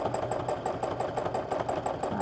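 A sewing machine running steadily during free-motion quilting of a double-loop meander, its needle producing a fast, even, chattering pulse with a motor hum, close and continuous without speech.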